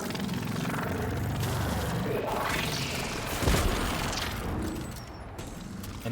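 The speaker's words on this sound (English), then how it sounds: "Not even remember what this gun sounds like." Exotic gun firing in the video game Destiny 2, a dense roar of rapid shots and booming blasts with mechanical clatter, loud and continuous, with a brief swell of heavier impact midway.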